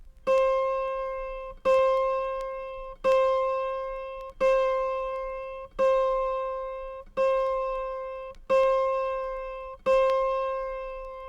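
An autoharp's middle-octave A sharp, the twenty-second string, is plucked eight times at a steady pace, each note ringing close and clear and fading before the next.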